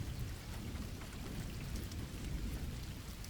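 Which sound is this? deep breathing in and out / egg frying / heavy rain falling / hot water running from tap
heavy rain falling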